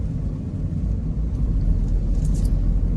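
A car driving along a road in Santa Maria, Bulacan, in light traffic, heard from inside as a loud, steady engine and road rumble with a continuous low drone. No one speaks.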